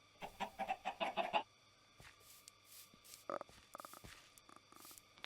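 Chickens clucking in a Minecraft 1.5.2 modpack, a quick run of short clucks at the start, then sparse scattered clicks and a single brief cluck over quiet game ambience.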